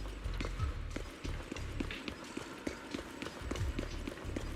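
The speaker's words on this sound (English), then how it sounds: "My footsteps are so goddamn loud in here." Player character's footsteps in the game Zenless Zone Zero: a run of quick, evenly spaced hard steps, loud and close, over a steady game background with no speech.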